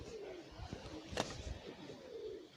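Owl call from the Mirogolo board game: a soft, low hooting coo under quiet ambience, with a brief sharp click partway through.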